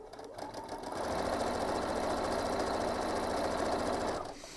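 A sewing machine stitching tote bag piping with the needle held tight against cotton cording, running in one steady sustained burst of whirring motor and rapid needle clatter, close and fairly loud, tapering off at the end.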